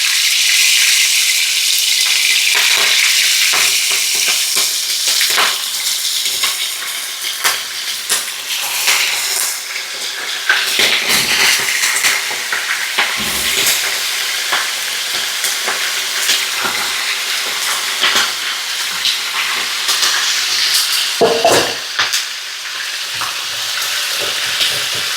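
Food sizzles and crackles steadily in hot lard on a homestead stove in Mexico, a loud, continuous frying hiss with occasional sharper pops and stirring clatter throughout.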